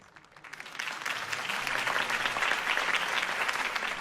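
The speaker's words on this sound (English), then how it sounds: "could have heard that applause" Applause for a campaign speech in a Batman video game, a crowd clapping that swells quickly from nothing and holds steady and dense for several seconds.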